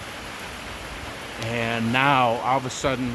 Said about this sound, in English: I can show you the rain is like literally pouring down